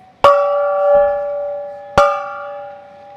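A home run gong at the Dodgers ballpark rings out twice, each loud metallic strike followed by a long sustained ringing tone that slowly decays, with no talk over it.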